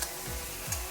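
Raw yam pieces dropped into a hot frying pan with green chillies, giving a steady hissing sizzle with a couple of brief stirring scrapes.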